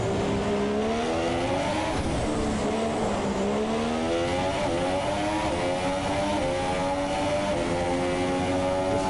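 A Mercedes F2 race car in a racing video game howls around the Monte Carlo street circuit, a loud, continuous high-revving engine note rising and falling through gear changes with no talk over it.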